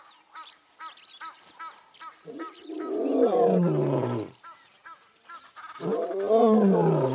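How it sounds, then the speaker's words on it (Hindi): A lioness roars in the wild, two long, loud, deep calls rising and falling, each preceded by softer grunting breaths, close and alone with no talk. "वो दहाड़ती है अपने झुंड के लिए, अपने मरे हुए बच्चों के लिए, गुस्से में, अकेलेपन में या शायद दुख में।"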